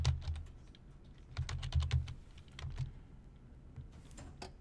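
Clattering keystrokes on a computer keyboard, typed in quick irregular bursts with short pauses between, close and fairly quiet, with no talking.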